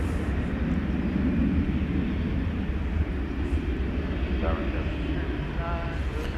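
A Boeing 777 airliner at DFW Airport at night gives a steady, rumbling jet roar that holds at constant loudness throughout, with faint voices briefly audible underneath.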